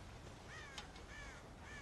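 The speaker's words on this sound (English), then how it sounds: "God damn crows!" Crows caw in Red Dead Redemption, a few harsh calls at moderate distance over a quiet ambient background.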